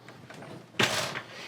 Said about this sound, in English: I'm going to shut this door right here.